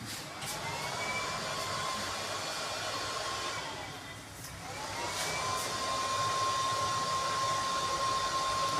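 A 4000 W AC/DC drive for a rooftop solar water pump switches on, giving a steady airy whoosh with a thin electronic whine that ramps up, dips briefly, then rises again and settles into a constant tone. No one speaks.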